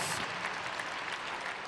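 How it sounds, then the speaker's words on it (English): A crowd at an indoor athletics meet in Birmingham applauds loudly and steadily, a dense wash of clapping that fills the whole moment. "give him a round of applause for that"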